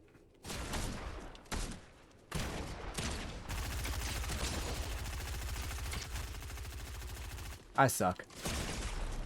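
Rapid bursts of automatic gunfire in Fortnite, a video game, crackling in long sustained volleys with brief pauses and a sharp louder blast near the end, while a player talks over the shooting.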